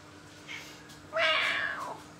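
Pet cat in a kitchen where pastry is being made, giving a faint short chirp and then one louder, drawn-out meow up close.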